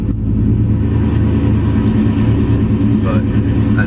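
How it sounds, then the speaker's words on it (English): A 2002 Camaro Z28 engine runs steadily at close range, a loud, continuous low rumble with a slight rise in revs near the end and no pause throughout. "And then you can just turn the vehicle back on."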